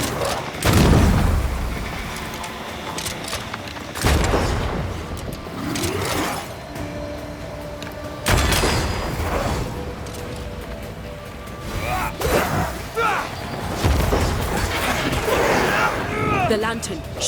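Lantern shot in the Banishers: Ghosts of New Eden video game, heard as several sharp booming gunshot impacts at roughly four-second intervals, loud and close, with someone talking between and over them.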